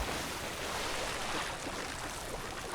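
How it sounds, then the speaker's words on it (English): A big water splash in the video game Zelda: Tears of the Kingdom, heard as a steady, loud broadband rushing wash like surf that lasts about three seconds with no voices. "What a splash. That's new."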